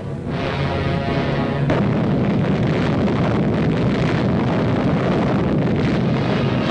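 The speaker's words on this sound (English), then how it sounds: "The gun fires an atomic shell." Atomic cannon firing an atomic shell in a 1953 military test: a loud, sustained roaring blast with no quiet gaps, sharpening into a harsher burst partway through, alone with no talk.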